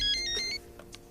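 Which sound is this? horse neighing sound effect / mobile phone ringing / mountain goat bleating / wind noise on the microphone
mobile phone ringing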